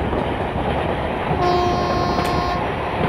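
An ICF train hauled by a WAG 7 locomotive rolls along a Kerala valley route in a train simulator game, a loud steady rumble of wheels on track with a sustained horn tone sounding partway through.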